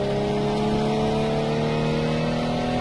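A car power sliding with assisted drifting in a racing video game, heard as a steady, loud, droning engine note held at constant pitch throughout, with no talk.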